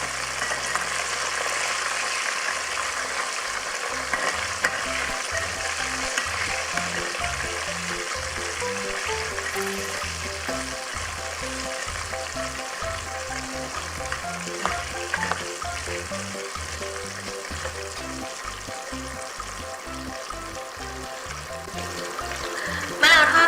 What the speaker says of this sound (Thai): เราก็จะใส่ ใบมะกรูดนะคะลงไป ทอดให้กรอบค่ะ